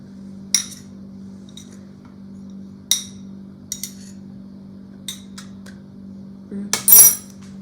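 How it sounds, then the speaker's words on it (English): Sparse clinks and taps of a utensil against a bowl while flour is stirred into white chocolate for a blueberry upside-down cake, with a few isolated knocks over a steady low hum and a louder scraping clatter near the end. "So I'm mixing the flour into the white chocolate."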